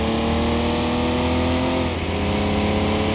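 A BMW E46 M3 in a video game revs hard and climbs through its gears, loud and close, with a sharp shift break partway through and the engine pulling again, no voices.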